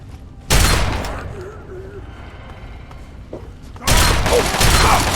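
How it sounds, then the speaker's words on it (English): A grenade explodes in the Fallout 3 video game, two loud, sharp blasts about three seconds apart with a quieter stretch of rumbling noise between them. "That grenade seemed to take a hell of a long time exploding"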